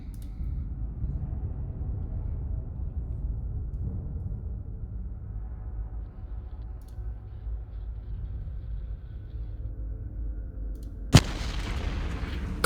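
Artillery fires once in the video game Decisive Campaigns: Ardennes Offensive, a single sharp crack over a steady low rumble of background ambience.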